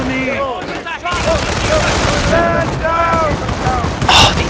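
American mortar rounds fire and burst in a World War II real-time strategy game, sharp booms among battlefield gunfire, with an excited commentator's voice talking over the action.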